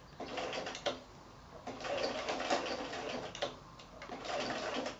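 A home sewing machine stitches around the curved edge of a felt appliqué heart, its rapid motor hum running in short bursts separated by brief pauses as the work is stopped and turned.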